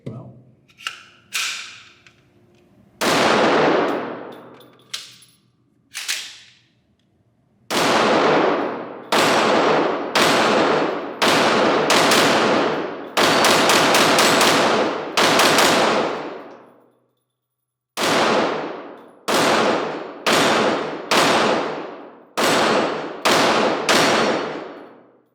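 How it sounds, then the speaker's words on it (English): Rapid bursts of shots from a Smith and Wesson M&P 22 Magnum handgun at a range, loud sharp cracks fired in quick strings with brief pauses between groups. "It's getting into its groove now, this handgun. As you can see, it's a rapid fire and no problems."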